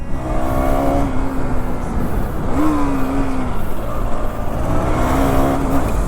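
A KTM Duke 390 motorcycle engine runs close by with a steady, gritty idle, lifted by three brief throttle blips that rise and settle back, heard alone without voices.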